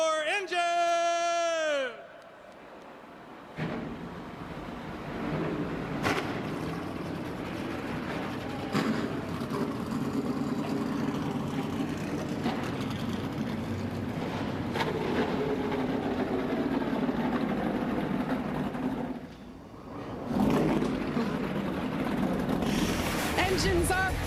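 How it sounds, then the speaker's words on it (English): Race car engines fire up and run at the Austin track for the 2023 XPEL 225, a broad steady roar that stays loud for most of the clip, dipping briefly near the end, with a voice heard at the very start. "Engines are fired at one of the most beautiful tracks on this circuit."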